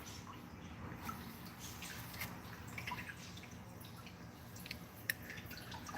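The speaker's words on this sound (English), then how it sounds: "right now I got water barely trickling into the emergency" Water barely trickling into a pond's emergency spillway outdoors, a soft, steady wash of running water with faint drips, low in level and unbroken throughout.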